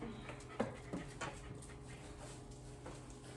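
Dogs pant quietly nearby with a few short whimpers and small yips breaking through the steady breathing rhythm.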